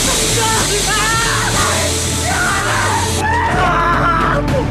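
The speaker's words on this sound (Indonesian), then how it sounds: "Ternyata sang manajer tidak mampu menahan rasa sakit dan berteriak" A man yells and screams in pain in loud, strained bursts, several cries rising and breaking over a roaring background, with no clear speech.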